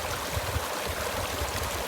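A mountain stream on the John Muir Trail near Mather Pass rushes down steadily, a continuous broad close-up wash of water with a faint low gurgle and no talking.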